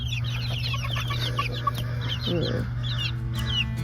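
Polish chickens clucking and chirping nearby in rapid little bursts over a steady low hum, with a soft voice murmuring briefly.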